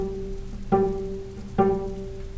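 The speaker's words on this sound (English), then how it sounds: "they do pizzicato on their D string" Two cello pizzicato notes plucked on the D string ring out about a second apart, each with a sharp attack and a resonant, sustained low hum.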